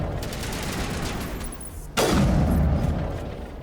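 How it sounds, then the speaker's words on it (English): Sustained video-game gunfire from Mass Effect Legendary Edition, a steady dense fusillade that swells into a louder, booming volley of shots and blasts halfway through, with no talking. "Now, who else is shooting at us?"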